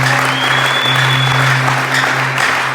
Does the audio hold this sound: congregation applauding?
yes